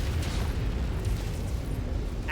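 An enemy Panther mech is destroyed in MechWarrior 5, and a heavy rumbling blast fills the moment with dense, sustained low booming.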